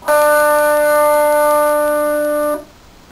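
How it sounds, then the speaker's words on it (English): One electric guitar note on the G string, fretted at the 7th fret, from a riff, rings out clearly and sustains for about two and a half seconds before being cut off, leaving near silence. "and just play the G string"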